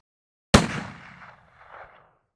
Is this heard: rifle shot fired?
yes